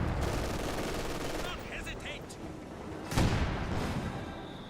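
An SU-76 self-propelled gun fires on a machine gun bunker in Company of Heroes 2, with a sharp blast cutting through a dense wash of gunfire and battle noise.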